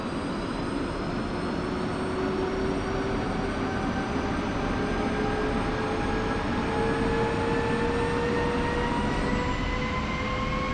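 An F-16 jet engine spooling up to idle, a loud steady roar with rising whines that climb slowly in pitch throughout, close by with no talking.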